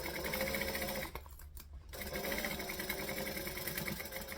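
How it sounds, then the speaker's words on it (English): A sewing machine hums steadily while stitching a tote bag, pausing briefly near the middle for a backstitch before running on at an even, moderate pace. "we want to stitch and back stitch"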